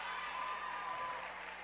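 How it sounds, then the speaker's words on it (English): Loud gym crowd at a boys' high school volleyball championship match, cheering and applauding steadily in a dense, continuous roar that barely shifts over its short span. "This Wolverines crowd is getting loud"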